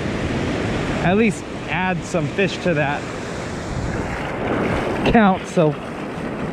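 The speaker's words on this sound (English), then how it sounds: "Wind is just starting to pick up." Steady wind roars at a surf beach, mixed with rolling waves and microphone buffeting, loud and continuous, while someone talks briefly over it.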